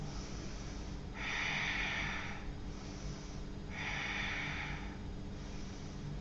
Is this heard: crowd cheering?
no